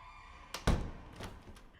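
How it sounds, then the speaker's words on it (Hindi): A door swings shut with a solid low thunk, a faint preceding click and rattle of the latch, then softer creaks and settling knocks as it comes to rest nearby in a quiet room, with no voices. "दरवाजा बंद कर लेना।"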